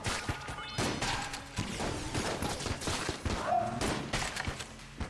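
Gunfire, crashes and breaking tables in the video game Enter the Gungeon, a dense, continuous barrage of close shots and impacts with no pauses.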